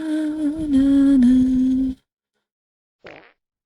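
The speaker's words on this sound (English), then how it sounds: "I heard a fart" A loud, sustained fart lasts about two seconds, followed after a short silence by a brief second burst.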